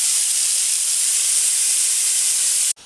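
Steam hissing hard from a pressure cooker of rice as it is opened, a loud continuous close-up rush that cuts off abruptly near the end, leaving faint room noise.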